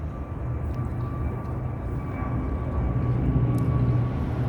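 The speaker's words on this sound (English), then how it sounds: "That's the audible noise as though a plane is taking off" A steady, loud roar like a plane taking off overhead, heard near an apartment block and holding broadband and constant for several seconds with a faint thin whine on top.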